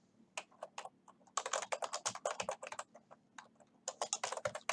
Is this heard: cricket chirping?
no